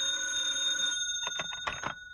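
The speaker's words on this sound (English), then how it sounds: "had just about decided to have some food sent up to the room when the phone rang" A telephone bell rings in a steady, close electric trill for about a second, then a few short rough bursts follow as the handset is picked up, with a quiet room behind.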